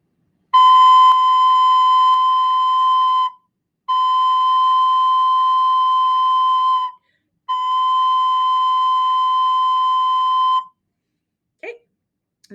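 A recorder sounds the note C three times, each a steady, pure held tone lasting a few seconds with short pauses between, clear and close with no talking.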